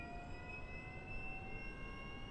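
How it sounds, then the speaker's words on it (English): Right jet engine of a Citation CJ4 spooling up on start, a steady high whine with rising tonal lines over a broad rushing roar, moderately faint and continuous. "Right engine is starting up."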